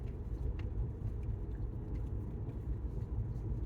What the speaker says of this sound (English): just cruising along on a not too busy forest road in New Mexico in the mountains